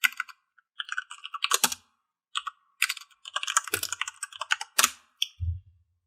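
Quick bursts of clicky keystrokes on a computer keyboard while commands are typed into a Python environment, uneven clusters with brief gaps, close and clear with no talking.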